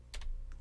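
A computer keyboard key is struck in a quick pair of close, crisp clicks, followed by a fainter lighter tap, all quiet and on their own.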